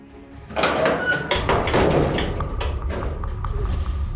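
A door is opened with a rattling slide and a few thumps and knocks, loud and close, followed by lingering handling noise.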